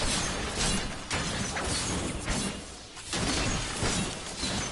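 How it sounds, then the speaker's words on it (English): Objects shatter repeatedly in Diablo III on PS4, a dense run of loud crashing, crunching breaks and swishes that roll on continuously with brief dips, dominating the mix without talk. "Everyone's just going around smashing things"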